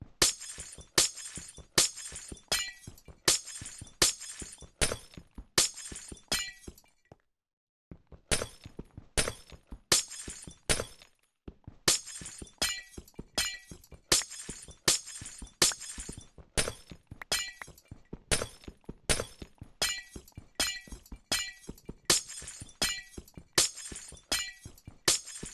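Dark glass blocks shattering one after another in Minecraft, a rapid series of crisp breaking crashes with a short silent gap midway, no talk.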